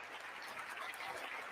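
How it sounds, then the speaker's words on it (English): Democrats applauding at the State of the Union, a faint, even, distant wash of clapping that holds steady throughout without speech. "That's where the Democrats start applauding"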